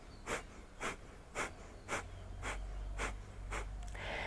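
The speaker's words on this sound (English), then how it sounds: "you give a little kick into the stomach and it forces an exhale through your nose" Eight sharp, evenly spaced exhales forced through the nose by quick stomach kicks during a morning meditation breathing exercise, close and clear, about two per second, over a faint low hum.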